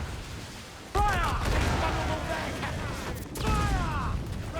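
Ship cannons firing in the pirate game Assassin's Creed Black Flag, heavy booming volleys over a dense roar of battle, with crew shouting orders throughout.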